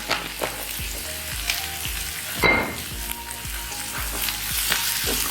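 Onions sauté with salt in a hot pan, a steady close sizzle broken by regular scraping strokes of a spoon stirring through them, with one louder clatter midway.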